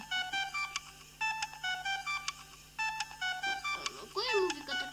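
Mobile phone sounding a repeating electronic tone pattern in short bursts, with brief gaps between, fairly close, with a voice breaking in near the end.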